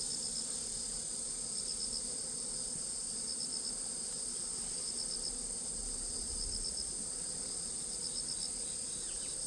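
Honeybees in an opened hive during a summer hive inspection give a steady, dense high buzz throughout, with a constant low hum underneath and no talking.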